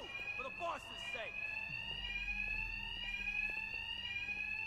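An alarm rings in the video game Batman: Arkham Knight, a continuous, steady, high electronic tone that holds throughout while someone talks over its start.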